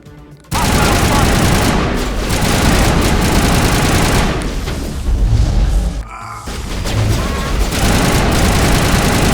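Loud, continuous assault rifle fire in the video game Mass Effect, rapid automatic bursts with booming impacts nearly filling the clip, broken by a couple of brief pauses.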